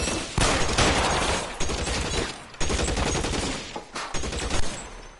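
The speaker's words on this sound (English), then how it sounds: "Офигеть, они там с чего стреляют" Gunfire in the video game L.A. Noire, sustained bursts of rapid shots in dense volleys separated by short pauses, loud and close, with no talk during it.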